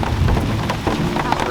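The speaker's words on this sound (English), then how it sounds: "So we have to wait for the thunder to calm down and the lightning." Heavy rain pours steadily during a thunderstorm in the Ecuadorian Amazon rainforest, with a dense wash of drops and low rumbling thunder underneath, loud and continuous throughout.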